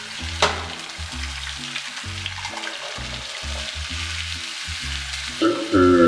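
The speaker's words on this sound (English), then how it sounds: "We got the eggs cooking right now, or at least they're trying to" Eggs frying in a pan, a steady soft sizzle running throughout with brief clatters of handling, alongside a low repeating musical backing, no talking.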